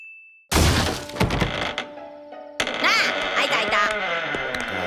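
A door in the One Piece anime is smashed in with a sudden loud crash and thud, followed by crumbling debris, clattering fragments and busy scene sounds.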